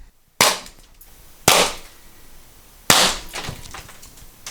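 A Mercury Rise MUB43 pepper ball launcher fires three sharp, loud pops spaced over a few seconds, each a sudden crack with a short ringing decay and little else around it.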